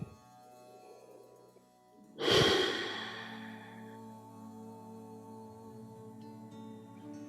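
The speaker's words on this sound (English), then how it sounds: "Maybe releasing heat by breathing out through the mouth." A single slow breath let out through the mouth during a hatha yoga session, a soft airy rush that rises suddenly and fades gradually over a couple of seconds against quiet background music.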